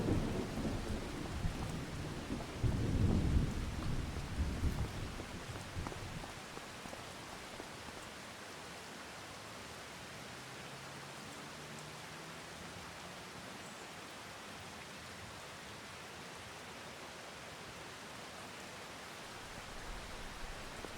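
Rain and thunder in the Farming Simulator 25 video game: a deep rolling thunder rumble opens, then fades into a soft, steady hiss of rainfall that continues alone.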